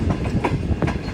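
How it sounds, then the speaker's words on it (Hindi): Shah Hussain Express passenger train rolling past Tando Adam Junction at night, its cars giving a loud, close, steady rumble with repeated wheel clacks on the rails and no talking. "हमारी ट्रेन स्किप करने जा रही है टंडो आदम जंक्शन रेलवे स्टेशन को"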